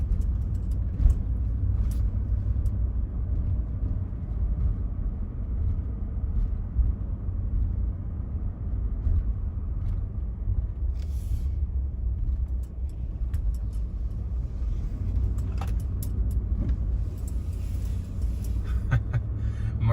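Steady low rumble of a car driving along a road in Lexington on a foggy day, heard from inside the cabin as a continuous engine and road drone with occasional faint clicks.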